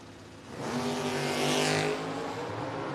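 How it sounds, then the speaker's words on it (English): Two drag racing cars, one of them a Rambler Wagon, race side by side at a No-Box 660 Shootout, their engines swelling into a loud, sustained roar that peaks and then holds steady. "Good side-by-side race down there"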